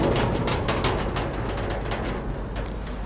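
A pigeon perched on top of a harp coos softly several times in a row, close by and alone, with no talk over it.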